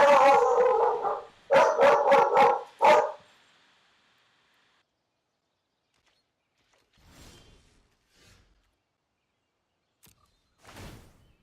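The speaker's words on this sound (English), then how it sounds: "My dog was freaking out." A pet dog barks in a quick burst of several loud, close barks, then falls quiet, with a few fainter yips or creaks following later.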